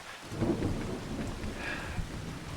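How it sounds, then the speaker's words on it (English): Steady heavy rain hisses over deep rolling thunder in a farming simulation game, the rumble swelling early and holding as a constant dense downpour with no voices. "not sure when the rain's due to end"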